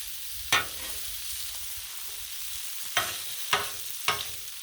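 Shrimp fried rice sizzles steadily on a Blackstone griddle, broken by several sharp scraping stirs of a spatula against the flat-top, close and clear with no talking.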